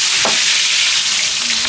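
Spices, onion and chilli sizzle in hot oil in a saucepan over a village cooking fire, a loud, steady broadband hiss with a brief stir or scrape near the start.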